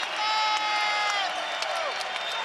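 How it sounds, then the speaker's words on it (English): Basketball arena crowd during a Colorado vs Arizona game cheering loudly after a big shot, a dense roar with whoops and whistles that swells and then holds steady. "The crowd loves it."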